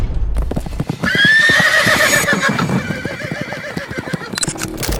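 A horse running in battle, loud close hoofbeats clip-clopping in a fast steady rhythm with a high whinny rising over them, continuing to the end.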